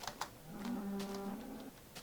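Minecraft cow lowing once in a single drawn-out moo, faint and alone over quiet background clicks.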